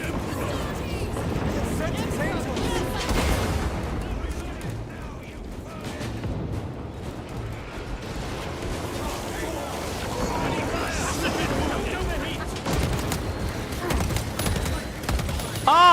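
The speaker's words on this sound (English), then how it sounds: "Ah, burst rifles!" Dense bursts of rifle gunfire in the game Warhammer 40K: Space Marine 2, rapid clustered shots amid explosions and battle chaos, with voices speaking over the din.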